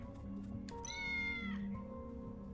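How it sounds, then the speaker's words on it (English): A cat in the Tales of the Neon Sea video game gives one clear, drawn-out meow, close and alone over quiet game music, with a few softer cat sounds before it. "I think this cat is pretty dodgy"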